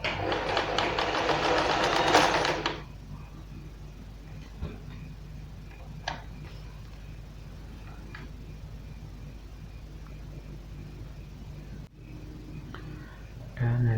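Janome 1122 EX sewing machine running in a short burst of steady mechanical whirring for about two seconds before stopping, leaving a quiet room with faint clicks and a low hum.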